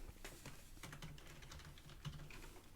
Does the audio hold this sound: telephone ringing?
no